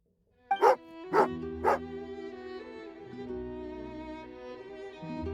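A dog in the Genshin Impact video game gives three quick, close barks, followed by sustained in-game music playing alone.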